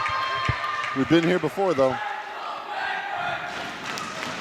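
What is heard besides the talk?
Bedford cheering section cheering at volleyball game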